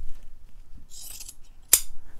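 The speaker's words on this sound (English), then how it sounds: "we'll just cut that in half and we'll use it like that" Scissors snip once through seat cushion material, a single sharp cut after faint handling rustle, close and quiet with no talking.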